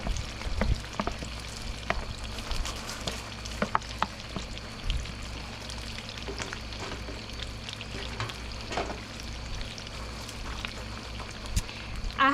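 Cooked beans frying and being stirred in a pan for Mexican tacos, a steady close sizzle with scattered scraping and clattering stirs, no talking.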